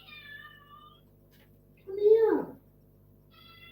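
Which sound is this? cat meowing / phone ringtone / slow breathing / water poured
cat meowing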